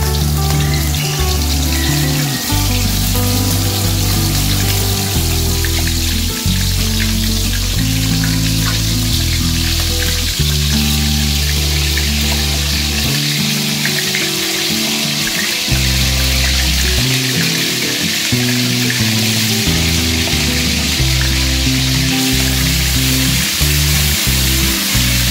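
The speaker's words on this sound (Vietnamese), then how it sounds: "Thịt ếch mình đã chuẩn bị được ướp được 15 phút rồi, bắt đầu dầu nó sôi mình sẽ chiên thôi" Marinated frog meat fries in hot oil, giving a loud, close, continuous sizzle with crackling pops that swell and ebb for about twenty-five seconds.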